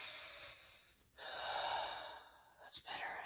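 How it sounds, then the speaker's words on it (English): A person takes a couple of deep, audible breaths, a long drawn inhale and exhale followed by a quicker sharp breath, close and fairly quiet with no other sound around. "Deep breaths."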